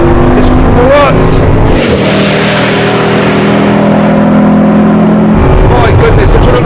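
Bugatti's most extreme hypercar, a heavy high-speed car, accelerates hard with a loud sustained engine roar and rising gear whine, with talk over it.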